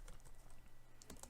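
Faint, quick clicking of keys on a computer keyboard as code is typed, a steady patter of light taps with a couple of slightly firmer strokes near the end.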